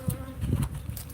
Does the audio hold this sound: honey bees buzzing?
yes